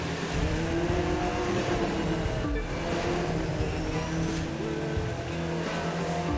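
Car engine in The Crew 2 roaring steadily while driving, loud and continuous, with layered engine and road noise and no voices.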